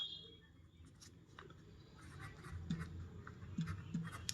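A pen writing on paper during a maths lesson: faint, close scratching strokes and light taps in short irregular bursts over a quiet room background, no speech.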